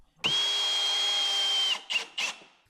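Power drill driving bolts into a wooden workbench, one long high whine of about a second and a half, then two short bursts, close and loud.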